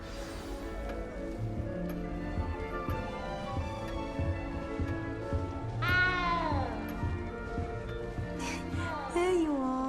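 A cat meows twice in the Hogwarts Legacy castle, short rising-and-falling cries standing out over a steady game music bed.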